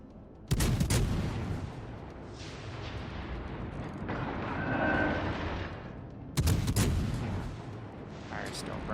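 A warship's naval guns fire in World of Warships Legends, as two heavy, booming salvos break out several seconds apart, each followed by a long, rolling rumble that stays loud between the blasts.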